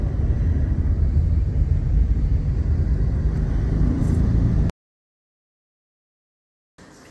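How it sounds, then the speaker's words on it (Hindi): A car travels along a road, with a steady loud low rumble of engine and tyres that cuts abruptly to silence before briefly returning. "भाई साहब जरा गाड़ी जो है ना जरा स्लो ही रख के चलाएं"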